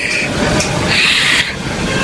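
A train rushing past a railway crossing, loud and close, a continuous roaring rumble with metallic screeching and rattling throughout, no voices heard.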